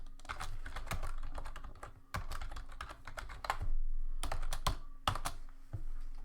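Rapid, steady typing on a computer keyboard while entering subtitle text, dense close-up clatter with short pauses between bursts, loud and alone with no voices.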